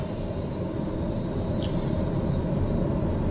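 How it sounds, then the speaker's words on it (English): An aircraft engine in Microsoft Flight Simulator 2020 spools up with a loud, steady broadband roar and a thin high whine, holding constant with no voices. "Engine spooling."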